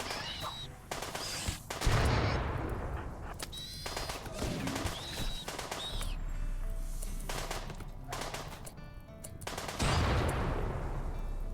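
Gunfire during a RimWorld battle, with colonists shooting from a distance while a room burns, coming as repeated sharp bursts and volleys spread over about ten seconds, and a heavier rumble in the second half.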